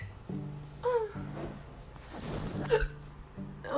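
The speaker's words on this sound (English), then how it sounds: "I have the hiccups" Repeated small hiccups from a woman who is chatting, several short voiced jerks spaced about a second apart, close to the mic with a soft murmuring voice between them.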